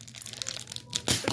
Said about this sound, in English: So let's open the instruction booklet.